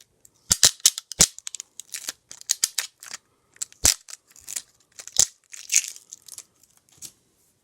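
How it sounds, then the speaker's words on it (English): An adhesive stencil is peeled off a piece of etched glass in short, sharp crackling tears and pops, irregular and close, with quiet gaps between bursts. "we're going to peel up this corner here and see if we can pull the stencil off"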